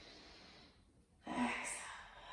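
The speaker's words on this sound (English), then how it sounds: "Inhale." A deep inhale during a yoga session, a breathy rush of air rising after a short pause and holding for about a second, close and clear.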